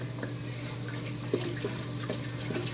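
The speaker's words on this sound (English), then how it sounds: "I'm going to wash my hands" Tap water runs steadily into a sink while hands are washed beneath it, a constant rushing hiss with a few soft splashes and drips, close and moderately loud, no talking.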